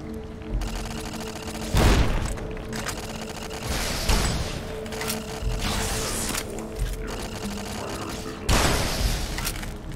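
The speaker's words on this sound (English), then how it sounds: "Shooting rockets." Turrets fire rockets in Fallout: New Vegas, loud repeated booming blasts landing every two to three seconds over a continuous rumbling mechanical background.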